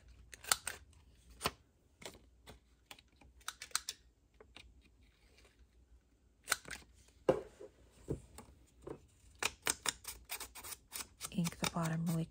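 Scissors snipping the ends off a paper trifold craft card: scattered sharp clicks and short cuts, some in quick bursts, close, with a few rustles of paper and brief talk in between.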